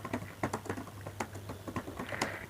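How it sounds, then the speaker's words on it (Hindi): Typing on a computer keyboard in irregular bursts of close, crisp keystrokes, with a steady low hum beneath and no voices. "यहाँ पर मैंने टाइपिंग करना शुरू कर दिया"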